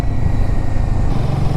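A motorcycle riding along a winding hill-station road near Lohaghat, its engine a loud, close, steady rumble with wind noise and no voices.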